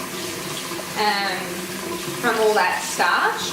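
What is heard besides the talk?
rinsing rice in water by hand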